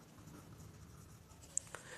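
Someone writes a number on a board, with soft faint scratching strokes and a couple of small taps in a quiet room.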